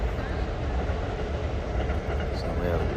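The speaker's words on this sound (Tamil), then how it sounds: "ஐயோ செம்ம ட்ரெயின் பார்த்திங்கன்னா எவ்வளோ உயரத்தில் போயிட்டுருக்கு" Elevated train rumbling past overhead at a park during an Eid prayer gathering, a steady loud roar throughout with crowd murmur underneath.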